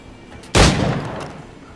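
A single loud pistol shot in the video game Assassin's Creed IV Black Flag cracks close by, followed by a short decaying echo; the rest is quiet background.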